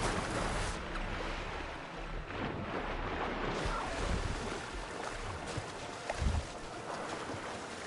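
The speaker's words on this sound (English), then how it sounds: "It's because of the waves." Ocean waves in Horizon Forbidden West, a continuous broadband wash of surf and water churning with wind, loud and steady throughout with a slight surge near the end.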